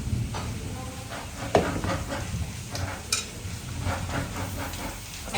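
Home-raised rooster meat frying in masala curry with chili powder, turmeric and chicken masala, a steady close sizzle with light stirring and occasional clinks.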